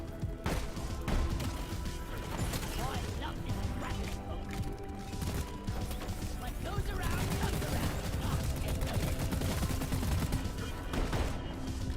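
Boomstick shotgun blasts in Deep Rock Galactic, heavy booming shots over a dense, busy soundscape of gunfire, impacts and clattering mechanisms, with a voice talking at times.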